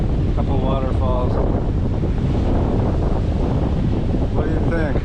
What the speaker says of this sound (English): Here's the ocean from the pools of Ohilo.